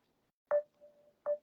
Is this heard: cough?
no